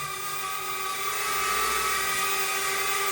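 Potensic A20 Mini toy drone flying close by, a steady high-pitched whine of small propellers holding constant and loud for the whole stretch with no talk.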